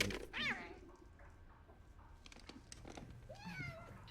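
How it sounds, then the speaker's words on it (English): A cat meowing inside the video game Telling Lies, a few distinct meows, one short early and a drawn-out one near the end, over a faint background hum, no speech. "Jesus, you're a fucking cat."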